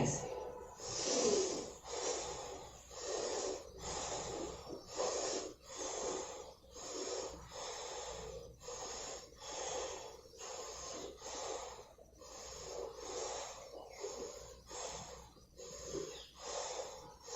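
Forceful rhythmic breathing during a yoga sun salutation routine, about a dozen sharp, snorting exhalations in a steady pulse at close range, with no speech.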